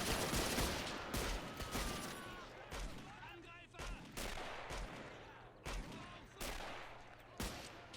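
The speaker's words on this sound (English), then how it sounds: "he shot that guy in the head" Dense gunfire from the Men of War: Assault Squad 2 WWI mod battle, with rapid rifle and machine-gun shots cracking continuously over a rumbling battlefield bed, loud and sustained throughout.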